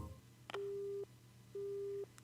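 Busy tone on a telephone line after a call hangs up: two identical steady electronic beeps, each about half a second long, separated by a short silence, clean and fairly quiet with a faint hum beneath.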